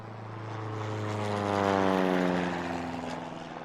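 A propeller airplane passes overhead, its droning engine rising to a loud peak near the middle and then easing off as it moves away, with no voices over it.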